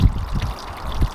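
Water pours over a big stone spillway and a small flag into a gravel wetland and pond at a garden wildlife pond and waterfall; a close, steady splashing trickle with soft low gurgles.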